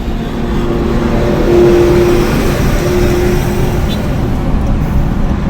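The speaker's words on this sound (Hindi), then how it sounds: "ट्रैफिक है यहाँ पे, 6 लेन हाईवे है तो भाई ट्रैफिक तो यहाँ रहेगा" Traffic streams past on a six-lane highway, a loud, continuous road roar with a vehicle surging by near the middle and a faint tonal whine riding briefly on top.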